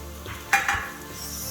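Tomato frying in a pan as carrots go in, a couple of sharp sizzling bursts with a brief stir over a steady low background sizzle.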